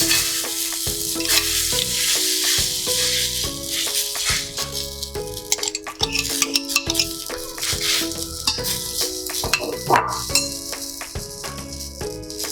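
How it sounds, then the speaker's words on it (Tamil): Egg paratha fries on a hot pan with a continuous crackling sizzle, broken by repeated utensil scrapes and light metallic clinks as it is stirred and turned. "இப்போ மறுபடியும் முட்டையை ஊற்றிக்கோங்க."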